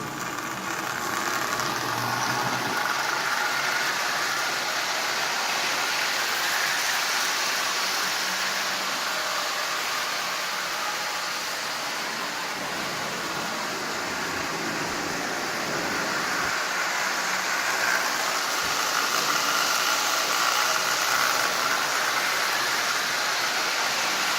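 Marx 400 plastic toy train engine running around its track, a continuous whirring motor rumble with a steady hiss that holds at an even level, rising slightly at times, throughout with no talking.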